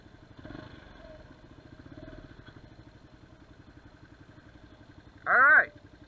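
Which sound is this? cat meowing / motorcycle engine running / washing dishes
motorcycle engine running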